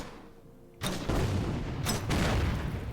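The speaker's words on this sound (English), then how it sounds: "I'll give those guys a bombardment." Artillery bombardment in the World War 2 strategy game Order of Battle, with two heavy booming blasts in quick succession rumbling loudly after a quiet start.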